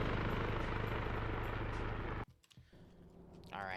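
A helicopter in a PvP video game match whirs with a loud rotor drone for about two seconds, then cuts off abruptly into quieter, sparse game sounds.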